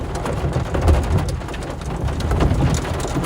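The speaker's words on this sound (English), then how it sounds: "Rainy." Steady rain pours down during a storm over the Nebraska Panhandle where a tornado is forming, a dense continuous hiss with low rumbling swells underneath, close and loud throughout.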